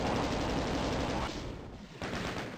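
Rapid plasma gun and shotgun fire in the DOS game Doom, dense, loud and continuous with brief dips toward the end, no voices.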